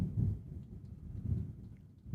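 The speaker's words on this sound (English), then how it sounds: "You're hearing that thunder." Thunder rumbles during a storm, a low, distant rolling that swells twice and fades, deep and muffled with no voices.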